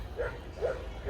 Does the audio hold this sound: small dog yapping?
yes